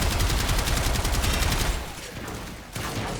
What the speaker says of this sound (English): Man, I'm just shooting the shit out of that wall.